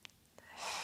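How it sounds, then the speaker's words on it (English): A soft breath is let out through the mouth during a postnatal yoga session, a brief airy exhale that swells near the end after a couple of faint clicks, close and quiet. "you could breathe out through the mouth if you wish"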